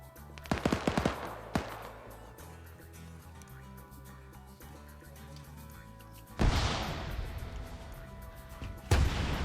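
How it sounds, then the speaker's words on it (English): Anti-tank weapon fired into a building in a PvP military game, a cluster of sharp gunfire cracks early on, then a loud blast and rumbling impact later, with another burst near the end over a steady low hum. "AT firing into the building"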